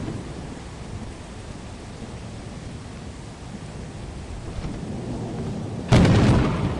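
A thunder and lightning storm in Lethal Company: a steady roar of rain and rumble, then a loud, sudden lightning crack and boom near the end.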